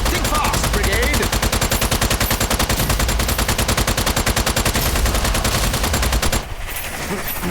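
A rapid-firing gun in the video game Strange Brigade unloads a long, loud, continuous stream of machine-gun shots for several seconds, then cuts off abruptly before a brief quieter tail.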